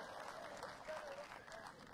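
A crowd at a tennis exhibition match between Djokovic and Dimitrov at Boodles 2013 claps and cheers, a dense, continuous wash of applause with a few whoops rising above it, heard at a distance.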